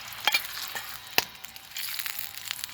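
Sausages fry in a pan on a cheap folding camping stove with a steady, soft sizzle, and sharp scraping clicks come in now and then as an old wallpaper scraper turns them.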